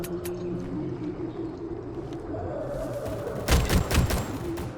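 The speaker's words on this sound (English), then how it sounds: "So this, I'm assuming, is like my heavy gun." A heavy gun firing in the video game Rolling Thunder: a steady low game rumble, then a loud burst of rapid, hard-hitting shots near the end.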